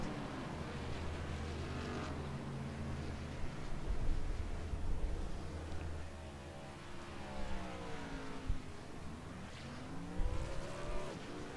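Stock-style race cars in a PC racing video game pull off pit road, engines droning and rising in pitch as they accelerate, with overlapping revs and shifts from several cars in a steady, busy mix.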